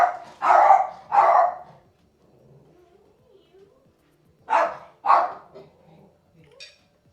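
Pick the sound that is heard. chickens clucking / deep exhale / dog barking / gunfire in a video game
dog barking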